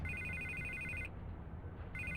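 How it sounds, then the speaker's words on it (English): A telephone rings with a repeated electronic trill in Batman: The Telltale Series, the ringing breaking off for about a second before resuming, over a low background hum. "I can't get the phone to stop ringing."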